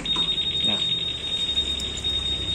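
A keyless anti-theft alarm on a Yamaha Aerox motor scooter sounds after the bike is nudged, giving a continuous high, piercing electronic tone that stays loud and close throughout.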